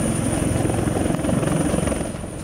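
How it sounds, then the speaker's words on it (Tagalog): A Philippine Navy AW-159 anti-submarine helicopter drones steadily and loudly, its rotor chop a continuous close thrum with a high engine whine held throughout, no voices. "Dumating din sa BRP Miguel Malvar ang AW-159 anti-submarine helicopter ng Philippine Navy"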